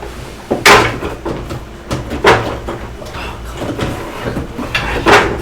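A drawer being pulled open and pushed shut indoors, several sharp wooden knocks and sliding thumps at uneven intervals, loud and close, amid quiet shuffling.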